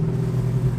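A 1970 Mercury Cyclone with a Boss 429 V8 gives off a steady, deep engine rumble at idle, close by and alone, with no voices over it.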